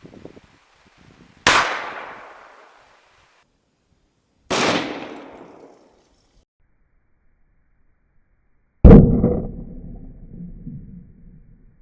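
A .45 ACP pistol fired at a truck door: three sharp, loud shots spaced a few seconds apart, each with a ringing decay, the last one heavier and longer, no voices.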